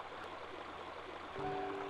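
Water flows through the tall barrel of a railroad aqueduct, a soft, steady rushing wash heard from a short distance, with a faint tonal hum joining near the end.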